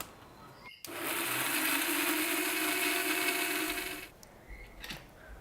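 Blender grinding lentils and almonds for dal badam halwa, a loud steady whir that starts abruptly after a click, runs for about three seconds, then cuts off, followed by faint handling noises.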